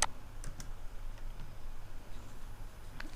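Computer mouse clicks while editing in Filmora: a few faint, sharp single clicks spaced apart over a quiet hiss, with a sharper click at the start and another near the end.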